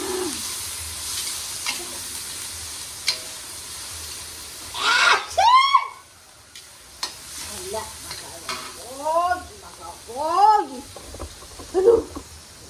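Noodles fry in a hot pan with a steady sizzle as they are stirred and scraped in bursts. Squeaky, chirpy tones rise and fall over the cooking noise, and there is no talk.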